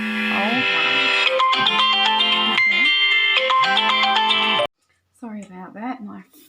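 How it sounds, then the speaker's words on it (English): A mobile phone rings loudly with a repeating melodic ringtone that cuts off abruptly, and then a voice speaks briefly. "Sorry about that, my phone rang"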